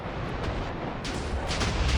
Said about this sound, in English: Look at it exploding around like fireworks.